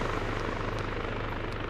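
Helicopter rotor and engine drone a steady, loud, dense whir without a break, flying in a PvP video game match.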